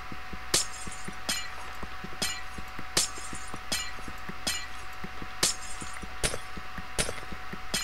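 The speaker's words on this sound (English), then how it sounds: "Silk Touch working on glass is a wonder of the universe." Glass blocks in Minecraft shattering one after another in a steady rhythm, about ten crisp breaking crashes over several seconds, with faint clinks between them and no talking.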